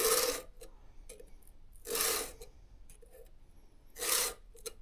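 A hand file rasps across the teeth of a chainsaw chain to sharpen it, three slow rhythmic strokes about two seconds apart, close and fairly quiet with light metallic clinks between.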